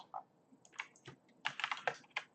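Quick bursts of clicky keystrokes on a computer keyboard while entering a Pokemon card product name into a search, close and crisp, with short pauses between clusters.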